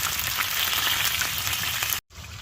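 Belly pork fries in a pan inside a hot tent during winter camping, a steady close hiss with faint crackles that cuts off abruptly near the end, then resumes briefly.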